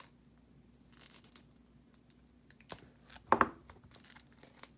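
A strip of tape is peeled and torn off at close range, heard as brief crinkly rips and a sharp tearing snap in an otherwise quiet room.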